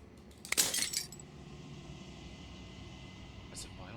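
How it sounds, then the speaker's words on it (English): Glass shattering in the game Slay the Princess: a single bright, crackling burst of breaking glass that rings out for about half a second, with a faint tinkle of fragments afterward over a quiet ambient bed. "As the final fragments of glass shatters"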